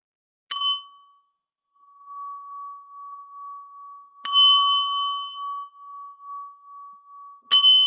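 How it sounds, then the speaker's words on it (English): A meditation bell is struck three times, each strike ringing into a pure, steady, fairly quiet tone that sustains between strikes. "do you mind kicking us off with a bell chime?"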